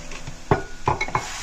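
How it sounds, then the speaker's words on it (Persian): Julienned onions are stirred in a frying pan, giving a few separate clacks and scrapes of a utensil against the pan over a faint background hum. No one talks. "خب من پیازا رو برشای خلالی میزنم. توی تابه بیزاریم کمی تفت."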